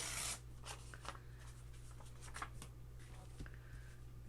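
Sticker sheets being torn by hand for vellum pocket crafting, a series of short, crisp tearing and rustling bursts over a steady low hum, close and moderately quiet.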